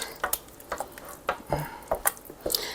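Egg yolks being mixed into warm pumpkin pie filling for hand pies, a utensil scraping and tapping against a bowl in a string of short, close, uneven clinks and swishes.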